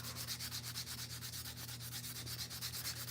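Sandpaper wrapped around a fat marker rubs steadily against a slingshot, a continuous close scratchy sanding with a quick regular back-and-forth rhythm and no voices.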